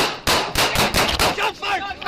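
Rapid gunfire erupting during a police search warrant, caught on a body camera: a burst of about seven loud, sharp cracks in quick irregular succession, echoing close by with no talk over them.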